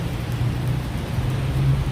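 Rain falls outdoors, a dense, continuous hiss and patter with a low rumble underneath, steady and fairly loud throughout.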